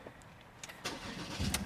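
A Ford Ranger 3.2 TDCi Wildtrak 4x4 diesel pickup engine starting, heard faintly as a brief crank and catch with a low rumble building near the end, with no voices.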